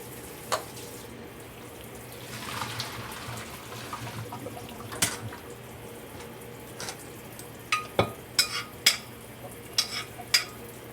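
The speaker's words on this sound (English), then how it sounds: "I'm going to strain them. Cold water," Cooked string beans are strained under cold running water, with a faint steady hiss of water and scattered clinks and clatters of a strainer or pot, growing busier toward the end.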